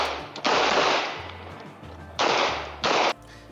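Two gunshots fired on the move at a shooting match: loud, sharp blasts with ringing decay, the first early and the second after a pause, followed closely by a third shorter report.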